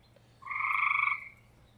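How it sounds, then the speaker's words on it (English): One frog gives a single loud buzzing croak outdoors at night near a firewood campfire, lasting under a second, with no talk. "If I can just, like I said, get these frogs to tone it down."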